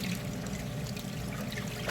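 Water rushes and splashes steadily into a Speed Queen top-loader washing machine holding jeans, a continuous close pouring sound with no voices.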